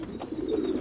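Pigeons coo close by in a low, soft, throaty burble that lasts for a moment over a faint background.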